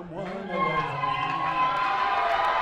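Crowd at a church play shouting and cheering, with voices rising and layering into a sustained, fairly loud clamor of mixed calls and whoops.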